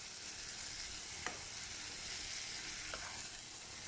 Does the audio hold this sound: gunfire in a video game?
no